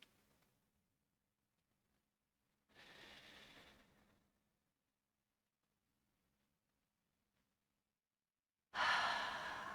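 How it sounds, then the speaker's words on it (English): Deep breaths during a restorative yoga session: two slow audible breaths a few seconds apart, soft and close, with near silence between and no talk. "Take a couple deep breaths."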